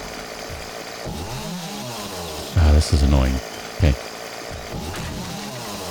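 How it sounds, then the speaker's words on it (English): A chainsaw cuts in the survival game 7 Days to Die, its buzzing motor surging in short loud bursts over a steady running drone while someone talks briefly. "I think that the chainsaw has a shorter range than the axe"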